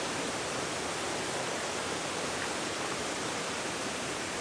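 Creek water rushes and tumbles along Cabin Creek Trail, a dense, continuous roar of flowing and falling water heard close and alone with no voices.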